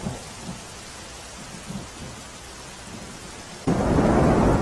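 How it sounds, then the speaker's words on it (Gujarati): Heavy downpour with strong wind in Ahmedabad city, a steady wash of rain that surges abruptly louder near the end as a gust drives it harder. "ભારે પવન સાથે વરસાદ વરસી રહ્યો છે."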